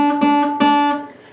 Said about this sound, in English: You then take your 4th finger and you play the 3rd fret on the B string